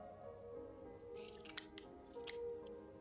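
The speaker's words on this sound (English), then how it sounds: "My shiny pair of scissors should make quick work of this." Scissors snipping through plants in the video game Habromania, a few quick crisp cuts, soft and close, over faint background music with no talk.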